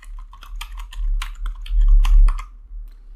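Rapid typing on a computer keyboard, a quick irregular run of crisp close key clicks with short pauses, heard alone without talk.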